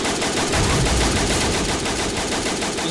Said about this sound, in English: I don't know what this BTR is shooting at.